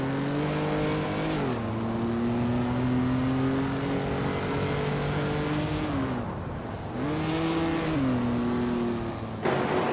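Race cars, including a 1969 Pontiac GTO and an Aston Martin Zagato, roar side by side with steady engine drones that shift pitch at gear changes, loud and close, cutting out briefly twice before resuming.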